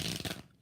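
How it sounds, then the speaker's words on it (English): Rider-Waite tarot cards are shuffled in a quick, soft riffling burst close by that fades out after a fraction of a second. "let's do 4 shuffles on Rider-Waite"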